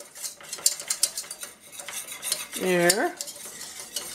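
A spoon scrapes and stirs flour into melted butter in a pan with steady, rhythmic clinks and scraping, and a brief low voice cuts in near the end.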